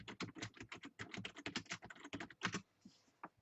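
Rapid, steady typing on a computer keyboard, close and quiet, a continuous patter of keystrokes that stops with a couple of isolated taps at the end.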